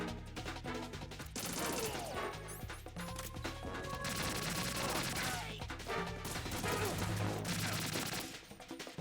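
Shotgun blasts in the Metal Gear Solid 2 video game, loud repeated shots bursting in clusters amid crashes and heavy game sound effects, continuing across the whole stretch.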